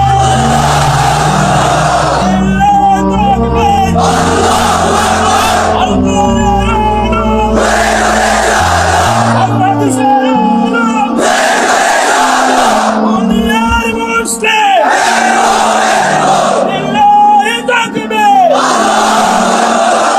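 A crowd shouting the takbir response, several loud rhythmic bursts of massed voices roaring together in short repeated waves, close and echoing, with brief gaps between them.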